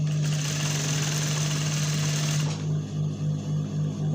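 Close, loud whirr of a sewing machine stitching a skirt seam with ordinary sewing thread, running steadily with a strong hum, then shifting after a couple of seconds to a slower, pulsing drone.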